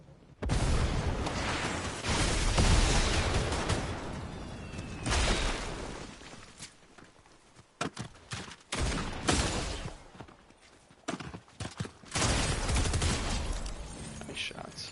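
Fortnite gunfire crackles in repeated rapid bursts and sharp single shots, loud and close, with brief pauses between volleys and some booming blasts; a voice is heard at moments alongside the shooting.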